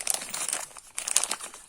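A plastic parts bag holding a turbo oil-feed fitting is crinkled and torn open, with two bursts of close, sharp crackling separated by a short pause.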